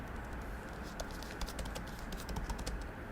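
Quiet, rapid keystrokes on a computer keyboard as a search query is typed, a light irregular patter of clicks running throughout at low volume.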